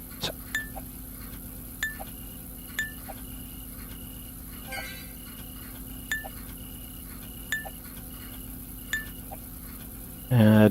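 Glass items clink as they are sorted in the video game Recycling Center Simulator, sounding as bright, regular taps roughly once a second over a low, continuous machinery drone, ending in a louder thud.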